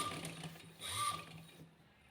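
A sewing machine stitches a shirt collar placket with a soft, even mechanical whirr, close by and quiet, swelling briefly in the middle before easing off.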